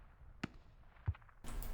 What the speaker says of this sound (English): That was a pretty bad explosion here somewhere.